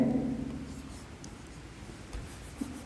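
A pen scratches out numbers on paper during a maths exercise, a soft, close rubbing and scraping with a couple of small taps near the end.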